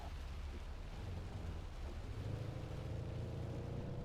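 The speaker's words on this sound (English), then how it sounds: "Alright, lightning strike." Thunder from a nearby lightning strike in the storm-chasing video game Outbrk, a low, muffled rumble rolling steadily under a rain-like wash, fairly faint and underwhelming rather than a sharp crack.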